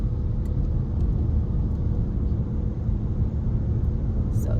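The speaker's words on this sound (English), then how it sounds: "I'm tired of this traffic over here." Steady low rumble of road traffic heard from nearby, continuous and unbroken, with no voices over it.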